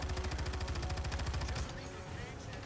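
Rapid automatic gunfire from an overheating gun in a video game rattles in a fast steady stream, then stops and leaves a quieter hum, with a voice talking over it.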